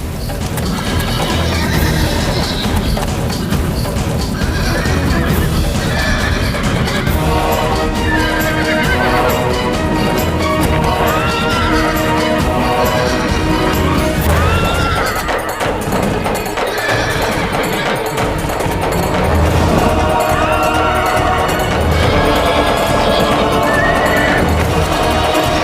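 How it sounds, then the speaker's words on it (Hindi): An uncontrolled horse neighs and whinnies repeatedly over pounding galloping hooves, loud and close, with crashes and dramatic music throughout and no clear speech. "रुक जाओ शिवा, वो घोड़ा बेकाबू है।"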